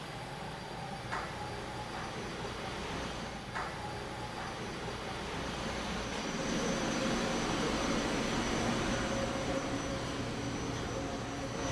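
Gas-fired M360 caramel popcorn machine starting up, a loud steady roar of burners and blowers that swells partway through, with a few faint clicks near the start; no clear talking.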